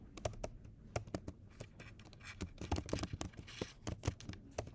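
Someone types on a computer keyboard in a quick, irregular patter of close key clicks with no pauses, heard alone.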